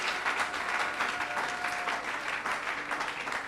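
A church congregation at a Sunday service claps and cheers continuously, a dense, lively wave of applause that fills the room for several seconds.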